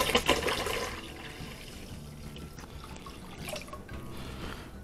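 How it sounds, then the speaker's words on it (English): A gallon of spring water poured into a container for cherry vanilla mead: a strong splashing gush at first, settling into a steady, softer stream of liquid running on alone. "And then we'll add 1 gallon of our spring water."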